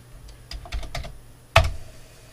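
Keys clack on a Commodore 64 computer keyboard, a quick run of about five light taps followed by one sharper, louder keystroke, close up in a quiet room.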